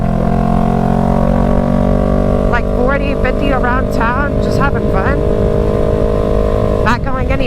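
A motorcycle engine runs loud and steady on a night ride around town, revving with gear shifts, while someone talks over it almost the whole time.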